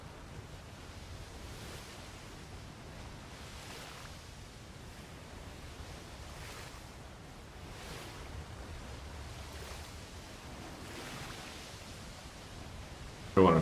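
Ocean waves roll and wash in a video game as a broad, steady surf hiss, swelling gently every couple of seconds at moderate loudness, with a brief louder bump at the very end and no voices.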